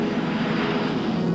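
An RCAF training aircraft's engine drones steadily on approach for landing, a loud continuous hum with a strong low tone and broad rushing noise, unchanging and alone.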